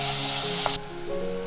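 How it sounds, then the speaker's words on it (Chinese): Chopped apple pieces sizzle in melted butter over low heat, a steady close frying hiss with a brief tap partway through and the hiss dropping sharply in loudness just afterward. "黄油熬融了，就把苹果碎加进来，"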